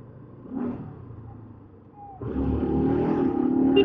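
Car engine revving hard as the vehicle overtakes other cars on the road, a brief rise and dip followed by a louder sustained acceleration roar close by.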